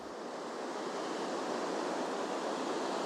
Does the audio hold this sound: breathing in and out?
no